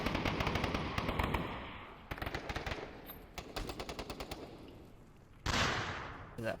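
Rapid bursts of automatic gunfire and single shots from a VR shooter game, Onward, crackle close and loud in repeated volleys with short pauses between them.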